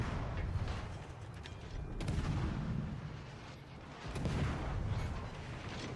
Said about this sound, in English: That Njord shooting at me.